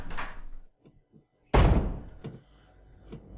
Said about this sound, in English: Somewhere, I hear a door trying to be broken down.